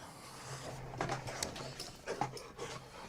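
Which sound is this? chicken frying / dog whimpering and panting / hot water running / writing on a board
dog whimpering and panting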